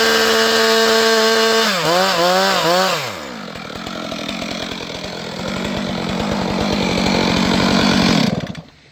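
A loud chainsaw revving and whining, dropping as the chain bites and bogs into protective chaps and sleeves, then grinding and chattering steadily before cutting off abruptly at the end.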